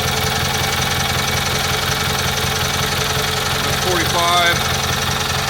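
A Kohler Magnum M18 engine on a Cub Cadet 1882 garden tractor idles steadily at close range, with someone talking over its constant hum throughout.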